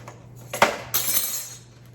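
Eggs are cracked one after another into a bowl of wet muffin batter ingredients, giving two sharp, close shell cracks followed by a brief wet splash, with no talking over them.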